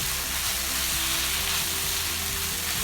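Meat fries in a pan with a spoonful of tomato paste and is stirred, making a dense, continuous close sizzle with faint scraping underneath.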